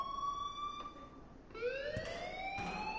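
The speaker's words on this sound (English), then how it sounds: "please turn off that alarm since that's your job" Alarm siren from the video game Life is Strange, a steady electronic wail with layered tones that rise in pitch partway through, loud and continuous with no talking.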